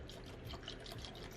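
Alcohol cleaning liquid poured into a glass pipe, a steady close trickle and splash of liquid running continuously.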